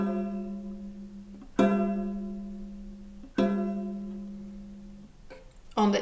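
Plucked violin D string prepared with a clothespin, giving several twangy, metallic pizzicato notes that ring and decay slowly, close and alone in a quiet space.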